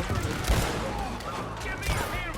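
Revolver gunshots ring out in Red Dead Redemption 2 during a chaotic town riot, with a few sharp cracks standing out over a loud, rumbling bed of gunfire and commotion.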